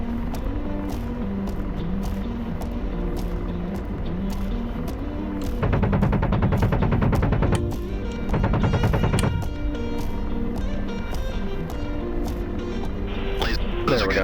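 Gunfire in a war video game set on a Syria server, with rapid automatic bursts in the middle and scattered single shots around them, heard under steady talking and background game sounds.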